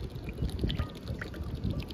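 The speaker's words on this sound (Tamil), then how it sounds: "இப்போ எண்ணெய் ஊற்றிக்கலாம்." Cooking oil poured into a pan outdoors on a windy rooftop, a soft continuous liquid trickle and splash under steady wind noise, faint and close.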